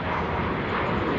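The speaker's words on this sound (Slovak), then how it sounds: "No počkaj, lietadielko ide." Small airplane droning overhead, a steady broadband engine roar that fills the whole short stretch at constant loudness, with no talking heard.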